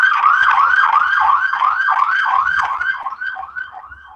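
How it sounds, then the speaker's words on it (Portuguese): An ambulance siren passing on the street wails in quick rising and falling cycles, loud at first and fading slightly toward the end, with no voices. "eu acho que isso foi alguma ambulância que passou aí"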